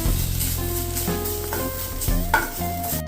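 Grated coconut roasts in a little ghee in a pan, giving a steady soft sizzle with a spoon scraping and stirring close by, and a brief louder clatter near the end.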